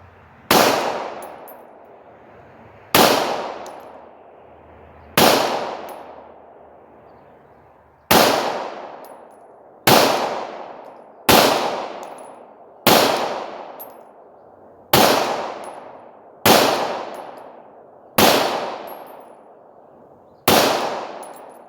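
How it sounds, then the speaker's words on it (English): A Beretta 92 M9 pistol is fired single action at a 50-yard target, eleven sharp loud shots spaced about two seconds apart, each with a ringing, decaying echo. "I'm gonna shoot it straight from single action"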